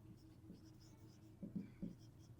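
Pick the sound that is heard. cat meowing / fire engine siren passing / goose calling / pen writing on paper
pen writing on paper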